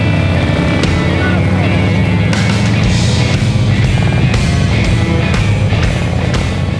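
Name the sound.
motorcycle ride at the Sturgis rally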